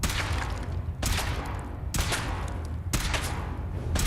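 Three bursts of rapid video game gunfire, each a dense broadband crackle lasting about a second with short gaps between, fired while testing a suit.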